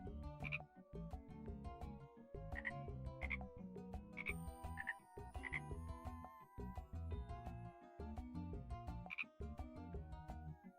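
Little cartoon frog croaking in Jackbox Party Pack 9, a few short bright croaks scattered over busy game music, fairly faint and mixed into the tune.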